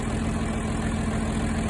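John Deere 4320 diesel tractor engine idling after a cold start, a steady, loud low rumble with an even mechanical hum throughout.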